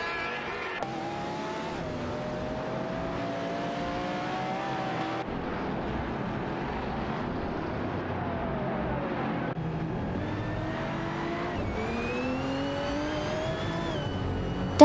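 AI-controlled race cars in a racing simulator game, engines whining and shifting pitch as they accelerate and change gears, several cars close together, with a steady roar throughout and brief tire squeals.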